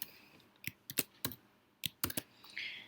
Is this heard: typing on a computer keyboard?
yes